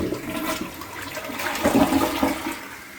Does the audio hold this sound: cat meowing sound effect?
no